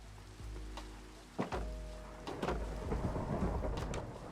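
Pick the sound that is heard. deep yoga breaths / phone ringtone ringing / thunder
thunder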